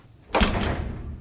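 A door swings shut with a single heavy thud followed by a short rattling settle, close and fairly loud against a quiet room.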